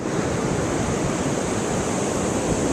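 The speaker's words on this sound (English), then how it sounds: "here are the conditions today out on the beach" Ocean surf rolls onto a beach with rebuilt dunes, a loud, steady wash of broadband noise with wind, no pauses and no voices.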